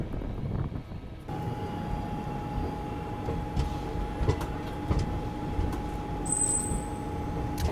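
A Gatiman Express train passing nearby: a steady, loud rumble of rolling wheels with a sustained tonal whine and brief metallic squeals, continuous throughout.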